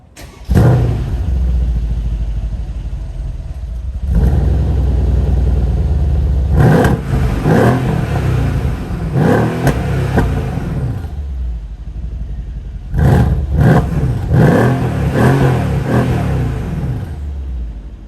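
Mercedes-Benz E63 AMG with a biturbo V8 revved hard in repeated bursts, each loud throaty blip swelling then dropping back to a rumbling idle, close and alone.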